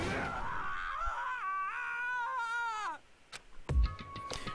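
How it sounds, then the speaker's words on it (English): A character's anguished scream from the Danganronpa video game, played out in a courtroom: one long wailing cry with a wavering, bending pitch that breaks off abruptly, followed by sharp clicks and a soft thud. "Ishimura's bitter screams echoed through the courtroom, each wail a painful reminder of that truth"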